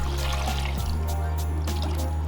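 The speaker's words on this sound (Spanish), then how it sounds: "Ahora lo voy a cubrir con agua." Water poured into a pot over seared, soy-sauce-coated beef ribs, a steady continuous pour with a brief interruption partway, close and fairly loud.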